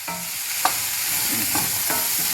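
Seasoned oxtails saute and simmer in an Instant Pot, a loud, continuous sizzle and bubbling heard close up with a few soft clicks and stirring scrapes and no talking.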